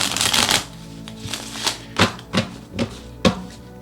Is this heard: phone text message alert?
no